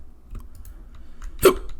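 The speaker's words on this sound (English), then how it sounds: "Not the hiccups." A single sharp hiccup, close and fairly loud, preceded by faint clicks and a quiet room background.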